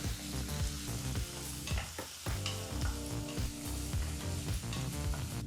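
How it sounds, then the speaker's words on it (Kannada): Ginger and curry leaves fry in a pan over a medium flame for oats upma, a constant close sizzle broken by rhythmic scrapes and clinks as the ingredients are stirred. "ಸರಿಸುಮಾರು ಮೂರು ನಿಮಿಷಗಳ ಕಾಲ ಮೀಡಿಯಂ ಫ್ಲೇಮ್ನಲ್ಲೇ ಇದನ್ನೆಲ್ಲ ಫ್ರೈ ಮಾಡ್ಕೋಬೇಕಾಗತ್ತೆ"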